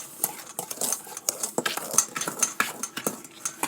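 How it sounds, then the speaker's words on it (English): Spoon clinks and scrapes around a bowl as a peppermint lip scrub is stirred, with an irregular, close, busy rhythm of light metallic knocks and scraping. "mix it until it's all blended"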